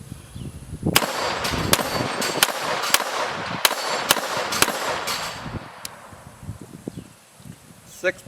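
Rapid pistol shots from a Taurus TX22 Competition firing Remington Golden Bullets at a steel plate rack, about nine sharp cracks over six seconds with metallic pings, followed by quieter rustling and handling.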